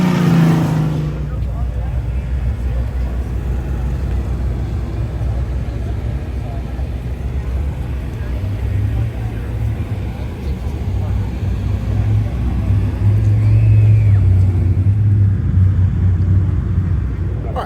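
Drag racing cars, a Corvette and a Honda, rumble in a low, steady engine drone that swells toward the end at an outdoor event, with someone talking over the noise.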